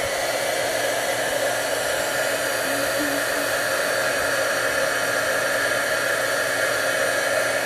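A heat tool blasts steady, loud airflow while melting embossing powder until shiny during card making, a continuous hair-dryer-like roar holding unchanged for the whole stretch.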